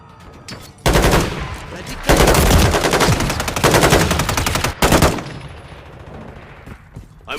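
Loud bursts of rapid machine gun fire in a combat video game, several long strings of shots separated by brief pauses, close and dominant, with quieter background noise between bursts.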